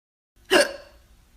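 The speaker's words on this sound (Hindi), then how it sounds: "हिचकी को हम इंग्लिश में हिकअप कहते हैं।" A single sharp hiccup rings out clearly in a quiet room, one short voiced burst with a brief trailing tail and then silence.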